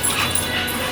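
A dog whines loudly and close by in a house, a continuous high, strained whimper lasting under a second.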